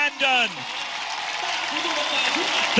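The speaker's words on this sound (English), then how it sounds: "the crowd welcome home the Ugandan" A stadium crowd cheers and applauds a Ugandan runner winning the men's 10,000 metres at a Universiade, a broad sustained roar with a commentator's voice over it.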